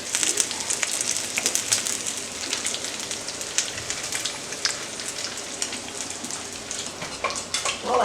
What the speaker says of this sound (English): this bacon, as an aside, is cooking up very nicely